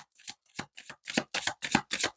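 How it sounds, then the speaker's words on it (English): A deck of tarot cards is shuffled by hand in a run of crisp riffling bursts that grow louder and denser, close up with no talking. "I'm going to shuffle again and see what else comes out"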